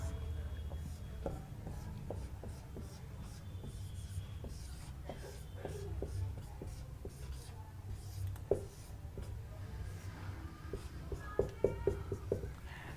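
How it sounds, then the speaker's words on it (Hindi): Marker or chalk scratching on a board during a classroom lesson, short irregular strokes and taps across the stretch, with a teacher speaking softly throughout. "अब आपके सामने हम लिख रहे हैं"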